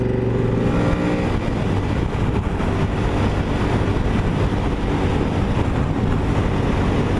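Honda VTR1000 SP1 V-twin motorcycle at speed on the motorway, a steady loud engine drone that rises in pitch early on, with constant heavy wind rush over the microphone throughout and no talking.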